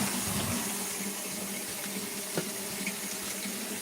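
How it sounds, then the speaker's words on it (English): A bathroom tap runs steadily into a bucket, a constant rushing splash of water filling it, moderately faint and uninterrupted. "Fill up my water bucket."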